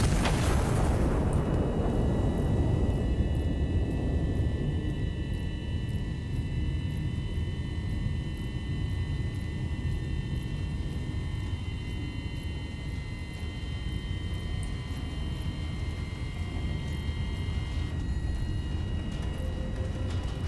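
A big explosion in the artillery video game Iron Nest: a heavy boom at the start that rolls into a long, low rumbling roar, decaying slowly over many seconds with faint tonal hums above, loud and alone without talk.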